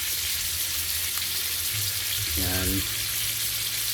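Fish frying in a pan for supper, a steady loud sizzle and crackle of hot oil throughout, with a brief voice over it near the end.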